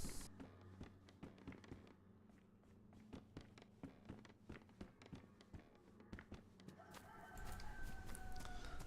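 Chickens clucking and crowing near the player in the survival video game DayZ, set in the Livonia map, with repeated short bursts over a background of shuffling footsteps, and louder ambient noise rising toward the end.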